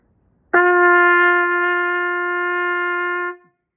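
A single trumpet G note rings out clearly and steadily for about three seconds, then stops, alone in silence.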